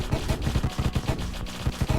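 Rapid gunfire from the video game Deathstate: a quick, continuous run of punchy shots in an even rhythm, dense and loud.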